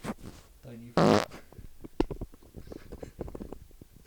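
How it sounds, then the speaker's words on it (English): A short, loud fart bursts out close to the microphone amid a casual room conversation, with people talking and laughing around it. "I'm not smelling your fart!"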